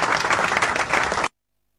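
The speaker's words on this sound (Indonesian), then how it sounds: "Berikan tepuk tangan untuk Tuhan Yesus," Church congregation applauding during an online Indonesian morning prayer service, a dense burst of many hands clapping together for just over a second before cutting off abruptly.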